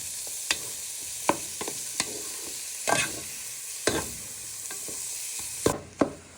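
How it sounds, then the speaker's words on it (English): Prawns sizzling in oil with shallots and garlic, a soft steady frying hiss punctuated by repeated scraping and tossing clacks from a pan, close and without talking. "you just want to give them a little toss for a few minutes in the oil and shallots and garlic."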